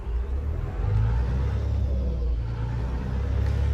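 A heavy truck engine in Euro Truck Simulator 2 rumbles steadily as the truck pulls away, a low continuous drone with slight swells in revving, no voices.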